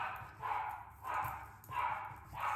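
A pet dog barks repeatedly indoors in a steady rhythm of roughly three spaced bursts, each a loud, close woof with no talking over it.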